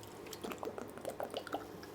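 A person drinking water, a short run of soft gulps and liquid sounds close to the microphone, quiet and unaccompanied by speech.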